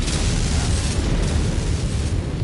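A destroyed target explodes in the MechWarrior 5: Mercenaries video game, a loud, sustained broadband boom with rumbling low end that fills the whole moment without any voices.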